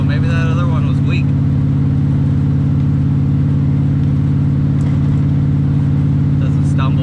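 A vettecart's engine idles steadily with its new fuel pump, a loud, even, close-up drone with a constant low rumble that holds for the whole stretch, with brief talk over it at the start.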